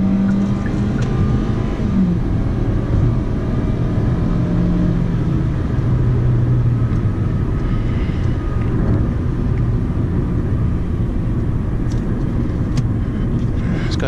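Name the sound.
2015 Hyundai Sonata SE driving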